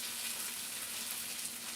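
Mushrooms frying in about a tablespoon of toasted sesame seed oil give off a steady, even sizzle that stays close and constant, with no voices over it.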